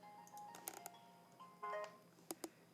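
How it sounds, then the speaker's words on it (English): A mobile phone chimes faintly in a quiet room, giving a few short electronic tones and brief melodic bursts spaced out over a couple of seconds. "Sorry, that was my phone"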